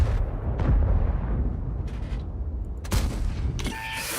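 Heavy tank cannon shots in World of Tanks, played on the STB-1 tank, booming over a constant low engine rumble, with two or three loud blasts spread across a few seconds.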